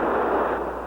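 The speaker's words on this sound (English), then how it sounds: "At last he packed the bomb with an 800-pound charge and set it right against the wellhead." A bomb packed with an 800-pound charge goes off against a burning oil wellhead, a dense, roaring blast that fills the whole second, loud and sustained without a sharp onset, with no voices.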